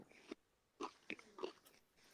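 Someone biting into crispy McDonald's chicken tenders: four or five separate close crunches spaced unevenly over a couple of seconds, fairly quiet with near silence between bites.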